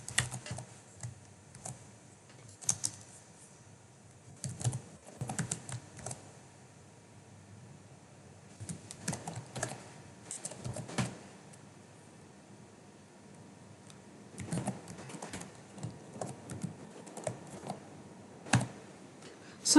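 Someone types code on a computer keyboard in short, irregular bursts of quick clicking keystrokes, with quiet pauses between them. The typing is close and soft, and no one speaks.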